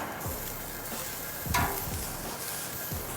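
Kangaroo steaks searing in a ripping-hot pan give a steady, close sizzle throughout, with a few faint clicks and shifts and no voices.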